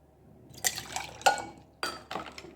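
Raw mango juice poured into a glass, heard as four separate splashy pours and drips with short quiet gaps between them, close and fairly soft, with no talk.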